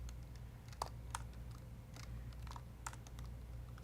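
Quick, irregular keystrokes on a computer keyboard while code is written, light clicks scattered over a steady low hum, close and fairly soft.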